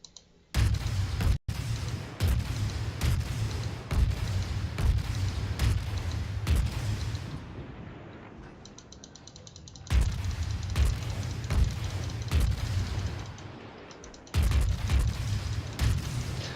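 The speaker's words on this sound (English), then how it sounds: "we're opening fire on that destroyer" Repeated heavy booms of naval guns firing at a destroyer in World of Warships, aboard the Krasnyi Krym, loud salvos in steady rhythm with brief sharp cracks, pausing then resuming.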